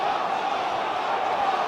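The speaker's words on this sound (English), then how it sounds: "The crowd is shouting off." A football crowd at a Wrexham AFC versus Burton Albion match shouting after a late foul, a dense, loud, continuous roar of many voices at a distance, steady throughout.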